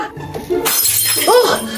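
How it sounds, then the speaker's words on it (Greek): A drinking glass shatters indoors with a loud, sudden crash and scattered tinkling fragments, set among background voices and noise. "Συγγνώμη ρε μαμά, έσπασα το ποτήρι κατά λάθος."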